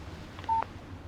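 A phone text-message alert from the video game Alan Wake sounds as one short, clean electronic beep midway through an otherwise quiet stretch.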